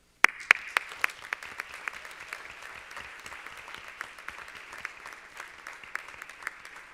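An audience at a school board of education meeting gives applause to welcome a student award recipient, a few sharp claps first and then steady scattered clapping from a modest crowd in a room.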